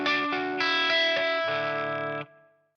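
An electric guitar strums a distorted chord several times with a low open D string ringing beneath, then stops and fades out.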